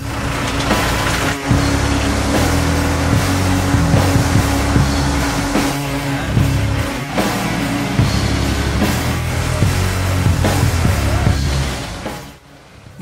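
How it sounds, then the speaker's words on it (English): A tree shaker machine grips a cherry tree trunk during harvest and shakes it, giving a continuous loud mechanical drone with a steady engine hum and rattling, thrashing branches for about twelve seconds before cutting off. "He let me sit behind the wheel of the shaker and give it a go."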